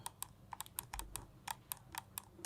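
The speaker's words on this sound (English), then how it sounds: "the clicking is actually kind of loud" A Redragon Predator M612 RGB gaming mouse clicks sharply and loudly up close, about a dozen crisp clicks in an irregular quick rhythm, each one short and bright, with no voices.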